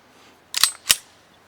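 Two sharp mechanical clacks about a third of a second apart, close and crisp against near silence, from a gun firing and cycling with the trigger held back.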